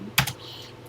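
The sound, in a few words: typing on a TI-99/4A home computer keyboard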